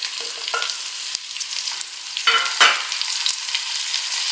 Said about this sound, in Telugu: ఇప్పుడు మనము కట్ చేసుకున్న 2 టమాటాలు ఇందులో యాడ్ చేసుకుందాం